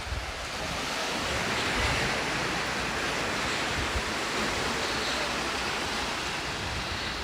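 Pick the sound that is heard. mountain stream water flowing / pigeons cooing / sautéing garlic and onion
mountain stream water flowing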